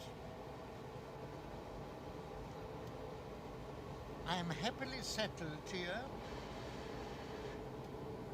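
A steady, low rumbling hum fills the inside of a moving train in 1975, running evenly throughout beneath someone speaking close by.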